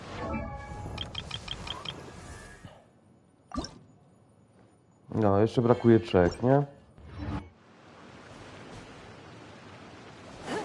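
Water trickling and leaking in the game Genshin Impact, a faint liquid drip and splash running in the background while someone talks over it at length.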